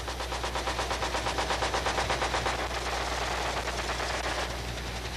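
Rapid sustained automatic fire from a gunship's guns raking ground targets from the air, a loud dense stream of rhythmic bursts over a steady low drone.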